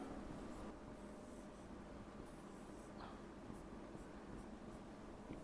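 An orbital diagram being drawn by hand, a faint continuous scratch of a pen on paper with a few short strokes, quiet and close with no talk.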